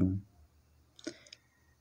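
A computer mouse clicks on a web page option, giving a short, quiet double click in a near-silent room after a brief murmur of voice at the start.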